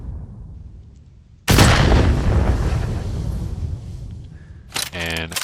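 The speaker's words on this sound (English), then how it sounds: "So if I run forward, shoot at the ground, I will rocket jump." A loud rocket-jump blast in the first-person shooter Meteoric bursts out and roars for several seconds before fading, followed by a quick burst of sharp rapid clicks.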